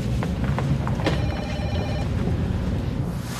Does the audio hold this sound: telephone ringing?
yes